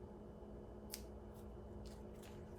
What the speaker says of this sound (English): I'm just going to do a small snip